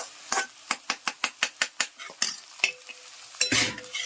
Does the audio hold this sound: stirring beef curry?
yes